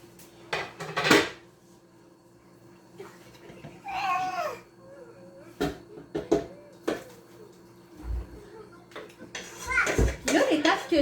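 Cooked meat is scraped and tipped from a wok into a slow cooker, with scattered metallic clanks and scrapes between pauses, while a voice and other household talk are heard in the background.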